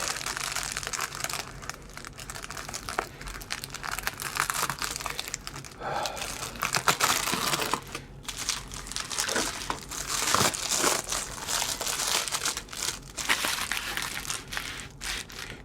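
A product package for a Gamerz Tek 16-Bit game system is cut into and unwrapped, with steady crinkling and crumpling of plastic and cardboard, close and continuous, plus a few sharper tearing bursts.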